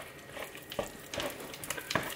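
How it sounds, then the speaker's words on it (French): Cod curry with coconut milk being stirred in a pan, with a soft sizzle under intermittent scraping strokes of a utensil, close and fairly quiet. "Donc là, on va venir remuer tout ça"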